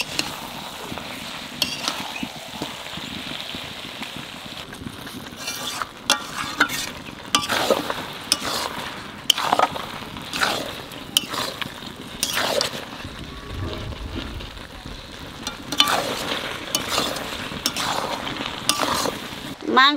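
Mutton sizzles and is stirred in oil in a pan, cooked down with tomato puree before potatoes go in; steady frying hiss with repeated scraping and clinking of a spoon against the pan, close up.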